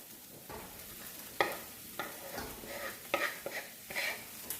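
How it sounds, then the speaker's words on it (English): Mushrooms are stirred into a skillet with minced garlic and onions, sizzling softly while a utensil scrapes and clatters in several sharp, irregular bursts. "Now we're going to go ahead and add the mushrooms."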